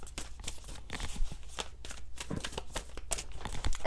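Oracle cards shuffled by hand in continuous rapid riffling and slapping, close and fairly loud, with soft crisp flicks throughout and no voice.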